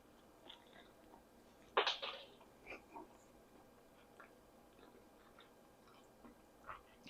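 Quiet, close chewing of a warm, freshly baked hot cross bun, with one sharper bite near the start followed by soft, sparse mouth sounds over low room noise.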